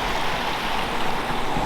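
Water from a brand new backyard pond water feature flowing steadily, a continuous close rushing splash without pause.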